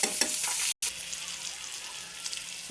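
Bangus (milkfish) frying in a pan, with a close, steady hiss of sizzling oil and small crackles, briefly cut out once before carrying on.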